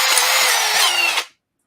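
Makita power drill running at a loud, steady high-pitched whine close by, then cutting off abruptly into silence.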